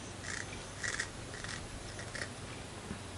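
Scissors snip through the bristles of a flux brush, trimming them short: several crisp cuts spaced apart over a quiet background with no talk.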